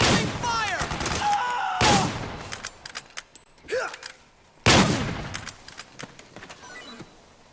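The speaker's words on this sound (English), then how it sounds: "Suppressing fire!" Bursts of suppressing gunfire in Metal Gear Solid 4, loud rapid volleys that come in several waves, mixed with shouted voices and battlefield noise.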